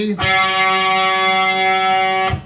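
One guitar G string, detuned to A430 for a lesson, sounds as a single steady sustained note that rings clearly and alone for about two seconds before cutting off.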